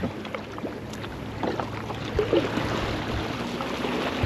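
A kayak paddled across choppy water toward a remote island in Maine, with the wind behind it. Steady watery wash and splashing runs under gusty wind noise throughout, with occasional closer paddle splashes and no talking.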